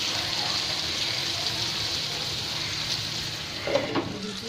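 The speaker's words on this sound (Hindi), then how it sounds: "दूसरा साइड भी इसी तरह पलट के हम फ्राई कर लेंगे" Mutton chaap fries in a pan for Bakra Eid, a steady dense sizzle and crackle of hot oil throughout, with a few brief louder pops near the end.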